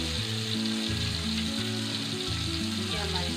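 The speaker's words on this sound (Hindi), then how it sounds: "ये देखें आप, मिर्चें फ्राई होना स्टार्ट हो चुकी हैं हमारी।" Green chilies fry in a hot pan with oil, a steady close crackling sizzle that runs continuously without pause, louder bursts rising now and then over a low hum.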